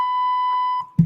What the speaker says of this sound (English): The beep is back. The beep is funny.